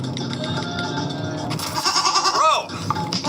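A person mimics a goat's bleat: after a stretch of murmuring background, a short wavering, quavering cry rises in the middle, loud and close, followed by a brief quieter tail.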